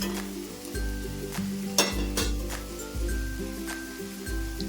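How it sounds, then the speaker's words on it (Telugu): Fried paneer pieces are stirred through spinach in a pan for palak paneer, with fresh coriander added. A steady sizzle runs beneath repeated scraping strokes of a spoon against the pan, a few clinks, and no voices. "వేసుకొని మనం బాగా కలుపుకోవాలి ఒక రెండు నిమిషాలు ఇంకో నిమిషం పాటు మనం వేయించుకుందామండి బాగా"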